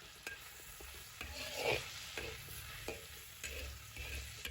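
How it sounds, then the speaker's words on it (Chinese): Onion strips are stir-fried with a spatula in a wok with doubanjiang sauce, making a soft continuous sizzle broken by repeated scraping and tossing strokes at an uneven rhythm, close but fairly quiet. "再把洋葱丝放进来，继续用铲子翻炒"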